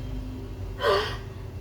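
Penny, a character in the video game Hogwarts Legacy, lets out a single sharp gasp after holding her breath, a brief breathy burst standing out against quiet game background ambience.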